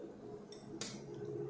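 A spoon scrapes and clinks against a container while stirring a slime mixture, with one bright clink standing out over a soft background hum.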